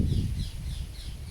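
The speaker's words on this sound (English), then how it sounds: "and the birds are having their say too." Crows cawing outdoors in a repeated series of harsh calls over a steady low background rumble, moderately loud and without talk.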